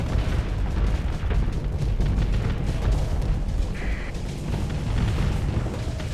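Missiles fire and burst in a steady barrage of rumbling booms during a space battle in the game Starsector, loud and dense with no clear gaps between blasts.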